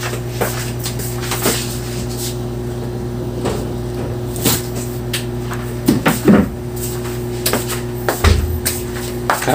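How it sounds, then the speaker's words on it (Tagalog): Several doors being opened one after another indoors, with latch clicks and knocks at irregular intervals over a steady electrical hum, a heavier thud near the end. "Dami kong binuksang pinto."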